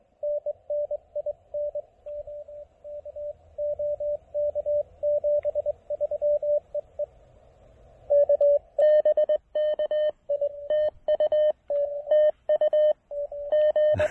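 Mountain Topper MTR-3B QRP transceiver playing back a stored Morse code message, a steady single-pitch sidetone beeping in rhythmic dots and dashes, clear and alone, getting louder and harsher toward the end.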